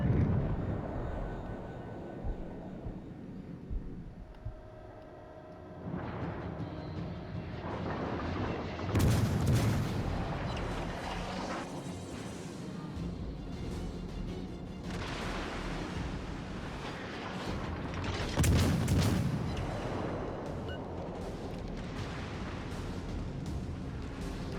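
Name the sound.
naval shell fire from the video game World of Warships Legends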